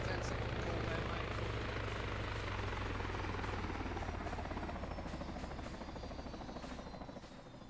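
Helicopter in a military convoy video game, a steady loud rotor drone filling the whole stretch and fading slightly toward the end.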